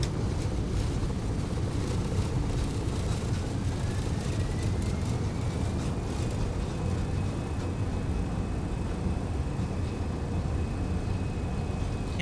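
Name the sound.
MD-11 jet engines at takeoff thrust in X-Plane 12, video game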